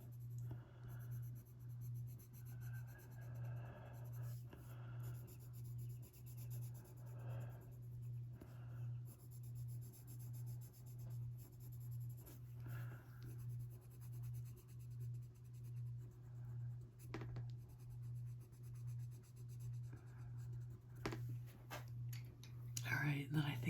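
A white colored pencil scratches softly across a greyscale coloring page, faint steady strokes of graphite-like rasp under someone speaking quietly, with a persistent low hum in the background.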